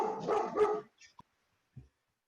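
A dog gives a short burst of loud, close barking, two or three quick overlapping barks, followed by a faint yip and a soft whimper in an otherwise quiet room.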